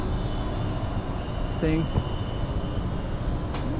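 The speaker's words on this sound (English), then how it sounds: "there's a train going above us right there" Train rumbling along an elevated track overhead in Macau's Taipa streets, a steady low roar beneath someone talking.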